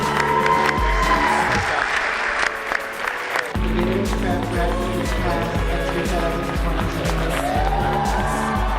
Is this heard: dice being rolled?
no